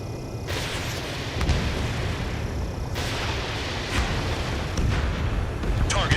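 A radar facility is blown apart in the Ace Combat 7 flight combat game, heavy booming blasts rumbling over a steady engine roar, several sharp hits landing in turn, with voices talking through it.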